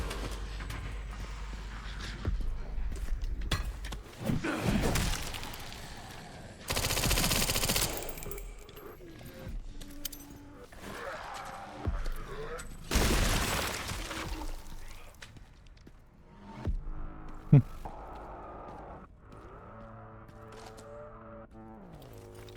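Gunfire in the Resident Evil Requiem video game comes in loud sustained bursts of rapid automatic shots, broken by single cracks and intense stretches, with game effects and tones toward the end.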